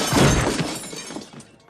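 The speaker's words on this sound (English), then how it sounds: "we've got a toolbox crashing its way down the stairs and smashing over the door" A toolbox tumbling down stairs and smashing over a door in a 1992 Home Alone 2 Rube Goldberg contraption game, a loud burst of shattering, breaking crash that fades out over under two seconds.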